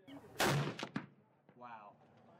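Single loud rifle shot from a Sako or Seekins Precision bolt-action rifle at an outdoor range, a sharp crack with quick echoing tail, followed by fainter mechanical sounds and a brief voice.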